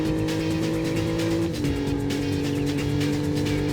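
Chevy race car engine in the PlayStation racing game NFS: Road Challenge, a loud steady drone with a gear shift midway and faint tire squeal, no talk.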